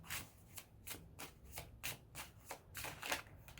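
A deck of tarot cards is shuffled close up and quietly in a steady, repeated rhythm of crisp riffling bursts and soft sliding rubs, with no talking.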